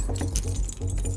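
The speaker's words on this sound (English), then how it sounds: "Keys." Keys jangle close by for a moment while someone fumbles at the locked door of a caravan at night, metallic clinks bursting irregularly over a low rumbling background.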